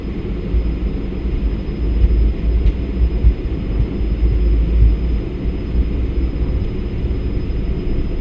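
Jet engines of a Lufthansa training jet spooled up to takeoff thrust, a loud, steady low roar and rumble heard from the cockpit, continuous throughout with a faint high whine.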